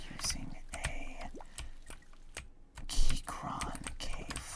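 Clicky mechanical keystrokes from a Keychron K4 keyboard fitted with Gateron blue switches, typed in irregular close bursts with a few sharper clacks and a soft voice murmuring at times.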